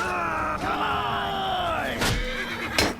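A horse neighs in Mount & Blade II: Bannerlord, a loud, rising and falling whinny close by, broken by a couple of sharp impact thuds near the end.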